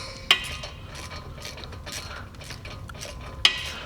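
Metal guide pins on a VW GLI brake caliper (2012-2018 MK6) being threaded in with a 7mm hex Allen key, giving soft ratcheting and mechanical clicks with two sharp metallic ticks, close up and without talk.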